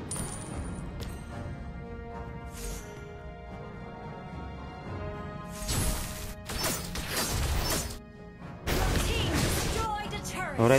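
In a Mobile Legends match, the top turret gets destroyed: a few loud crashing, smashing bursts land over a busy, layered game soundtrack, while a player talks throughout.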